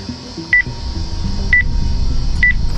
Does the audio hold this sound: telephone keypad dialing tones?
yes